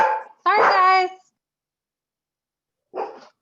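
Dogs give a few short, close barks and yips: a quick burst, a longer tonal bark, then silence before one more brief yelp.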